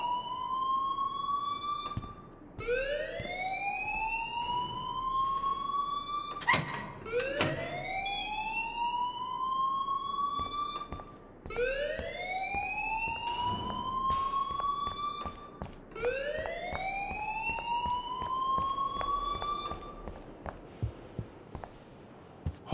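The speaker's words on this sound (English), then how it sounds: "please turn off that alarm since that's your job" A video game alarm wails in repeated rising sweeps, five or six cycles one after another, loud and mechanical like a siren, with a few sharp clicks between cycles and no voices.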